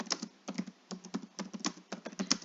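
Steady, quick typing on a computer keyboard as a search is entered, with a brisk run of close key clicks and no talking over it.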